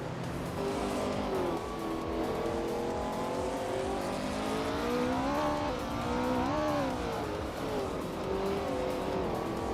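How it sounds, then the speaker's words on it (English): A 1966 Porsche 906 racing among other cars sends out a loud, steady engine roar that rises and falls in pitch through the gears. Other engines overlap and tires squeal faintly. "Ron is driving a 1966 Porsche 906, which is known for its agility and handling"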